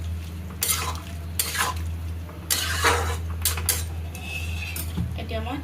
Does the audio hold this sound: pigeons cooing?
no